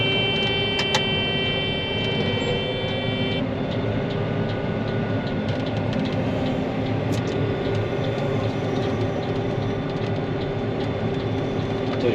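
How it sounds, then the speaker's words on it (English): A combine harvester working a bean field, a loud steady mechanical roar with a continuous engine drone and high whine throughout, heard from up close as from the cab. "I said, hey, I want to drive the combine, so that's what we're doing."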